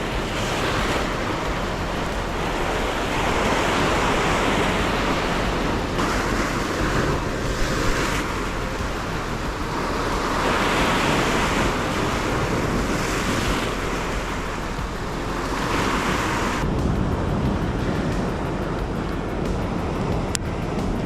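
Heavy sea surf pounds a rocky cliff-side shore in a continuous roar, with waves surging and crashing repeatedly, loud and broad, under buffeting wind noise on the microphone.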